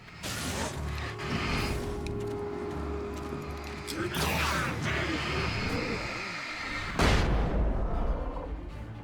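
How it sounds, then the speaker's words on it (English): Flashbang grenades in the Alan Wake game go off as sharp broadband bursts, one around the middle and another loud one near the end, amid game noise and someone talking. "Thank God for those flashbangs."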